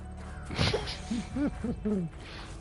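An owl hooting in the video game Horizon Forbidden West, a few soft rising-and-falling calls in quick succession, clear and fairly close.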